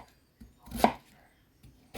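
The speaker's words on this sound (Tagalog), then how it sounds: "Hiwain natin bago tayo mag-start mag-luto" Knife cutting through kohlrabi on a board, giving two sharp, crisp chops about a second apart with softer scraping and tapping between, up close and without talk.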